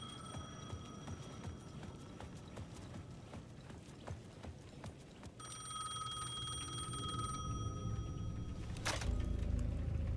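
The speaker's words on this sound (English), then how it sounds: "The payphone at the edge of the plaza was ringing again." A payphone rings at the edge of a plaza in Alan Wake II, with steady repeating tones over a busy, clattering game soundscape that grows louder toward the end.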